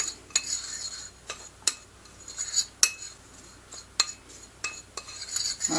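A spoon clinks against a bowl while raisins are stirred into a sugar mixture for a baked apple, giving sparse, irregular metallic taps with soft scraping in between and no voices.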